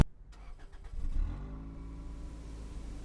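Car engine cranking and catching, then settling into a steady low idle rumble as the car pulls away, heard from inside the cabin, with no talking.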